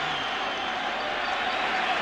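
A Yankee Stadium crowd roars steadily at a 1998 baseball game between Atlanta and the New York Yankees, a dense, continuous wash of cheering and noise that holds at full volume throughout.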